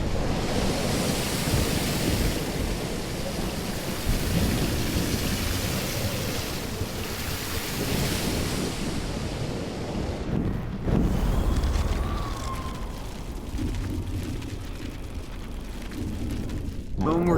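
Stormy surf and wind roaring steadily in the Life Is Strange game, a thick broadband wash of crashing waves with a low thunder-like rumble, loud and continuous, briefly dipping near the middle before surging again.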